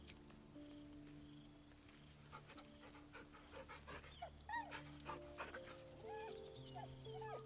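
A dog in the video game Baldur's Gate 3 pants quietly after being petted, soft rhythmic breaths with a few faint whimpers and yips over low ambient game music.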